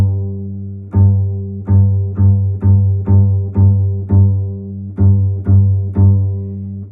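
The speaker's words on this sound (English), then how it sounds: "Make sure that your G string sounds like this." Repeated plucks of a bass guitar's open G string, about nine steady notes roughly one per second, each a loud, close, sustained low tone that decays slightly before the next, with no talking.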